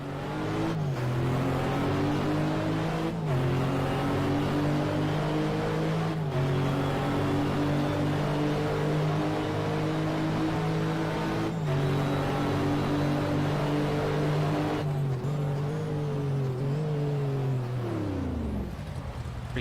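A GT race car in a racing game, set at Monza, revs hard through repeated gear shifts, its engine note climbing and dropping at each change before winding down, loud and close throughout.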